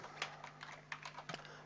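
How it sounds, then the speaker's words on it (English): Quick typing on a computer keyboard, a scattered run of light clicks and taps at close range over a steady background hum, with no voice. "it's just a case of typing and tabbing across like so"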